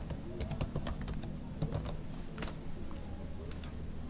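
Password keystrokes on a computer keyboard, a quick irregular series of soft close clicks with short pauses, over a low steady room hum.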